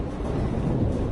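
A thunderstorm in the video game Life is Strange: a steady, low rumble of storm noise, dense and unbroken, with no other sounds on top.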